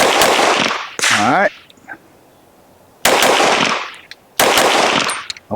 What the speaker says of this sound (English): I just want to see how fast I can get the shots off